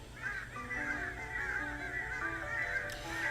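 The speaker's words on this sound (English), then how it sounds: "Suddenly the world was enveloped in flapping wings and feathers as the birds attacked me" A flock of angry birds attacks in a video game, loud layered honking and squawking calls overlapping steadily throughout, no speech.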